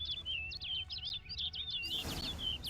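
A bird in The Witcher 3: Wild Hunt gives a rapid series of high, chirping calls over a low ambient hum, fairly close, before a louder whooshing rush takes over near the end.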